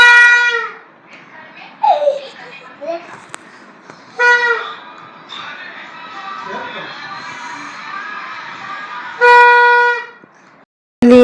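Children blow toy trumpets at home while preparing for 14 August, giving several short, loud, bright toots in separate bursts with gaps between them. Children's chatter and crying sounds come between the blasts, and a long final honk ends abruptly.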